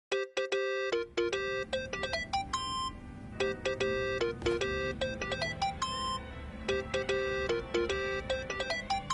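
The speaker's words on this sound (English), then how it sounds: "Think that's your phone, man." A phone ringtone in the video game Yakuza: Like a Dragon plays a bright, chiming electronic melody of repeated tone bursts that runs nearly continuously and loud, with short gaps between phrases and no talk over it.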